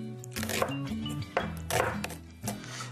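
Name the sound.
knife chopping vegetables, likely red onion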